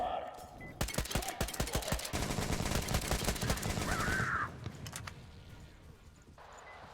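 Video game gunfire crackles in rapid bursts, loud and dense, the shots running together for several seconds before fading into a quieter game backdrop with a brief tonal sound.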